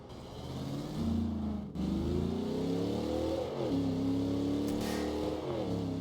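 A car engine in a video game revs and drives steadily, loud and close throughout, its pitch climbing and dropping as it accelerates, with no talk over it.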